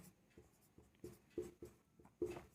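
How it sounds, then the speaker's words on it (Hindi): Writing on a board during a maths lesson, a quiet run of short, rhythmic marker or chalk strokes, about eight taps and scrapes in quick succession, faint and close. "इसको यहाँ लिख देते हैं हम"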